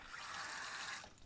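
Cold tap water from a just-reopened supply line rushes steadily into a sink after a shutoff valve replacement, a continuous close hiss with no voices.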